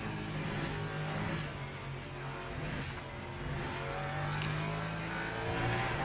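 Racing cars in a motorsport video game roar steadily and loudly throughout, engines droning with rising revs as a faster car closes in from behind.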